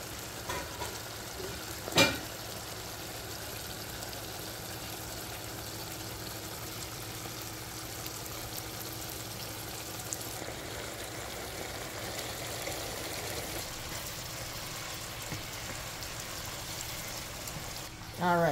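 Shrimp cooking in a seafood boil pot, giving a steady, low-level bubbling and sizzling wash that runs unbroken throughout, with a single sharp knock early on and a brief clatter at the very end.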